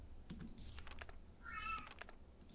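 A cat gives a short meow amid soft tapping of a computer keyboard, the call fairly faint and brief, rising in the middle of quiet clicking with no speech.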